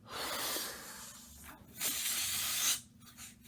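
Air rushing out of a released balloon, two loud broad hissing bursts of about a second each with a brief pause between, close and alone.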